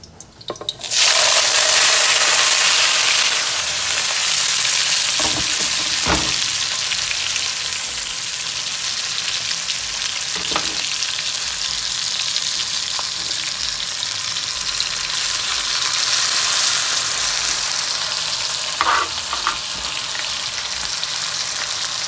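Jamaican bakes dropped into hot oil, a loud, steady crackling sizzle that bursts in and holds the whole time, with occasional taps and clinks.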